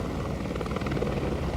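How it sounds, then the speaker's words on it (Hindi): A helicopter flying toward Kedarnath from a helipad, a steady loud rotor thrum and engine whine with rhythmic blade chopping, continuous throughout. "केदारनाथ के लिए 3 हेलीपैड से हेलीकॉप्टर उड़ान भर रहे हैं"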